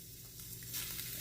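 Beef frying in oil in a pan for spaghetti, a steady close hiss and crackle of sizzling that holds throughout the short moment.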